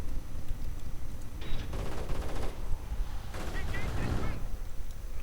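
Crackling bursts of assault rifle fire in a real-time strategy game, several rattling volleys of moderate loudness over a steady battlefield background, with some overlapping chatter.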